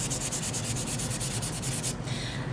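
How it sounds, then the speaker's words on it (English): Hand sanding painted wood with wet/dry sandpaper to distress it: rapid, regular back-and-forth rubbing strokes, close and steady, alone with no voices. "Let me show you now how it works with the wet dry sandpaper"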